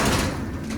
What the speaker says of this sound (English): We'll close this door down.